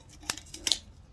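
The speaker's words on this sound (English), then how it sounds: "I'm just using some old kitchen shears. These are heavy duty." Heavy-duty kitchen shears snip through grass wound around garden tiller blades, two sharp close cuts with a faint third, quiet and alone.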